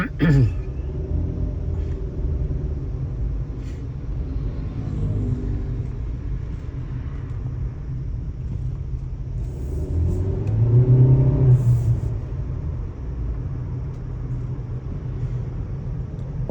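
A car engine idling steadily just after starting on a morning in Laos, a low continuous rumble with a brief louder swell partway through, heard close with faint background voices.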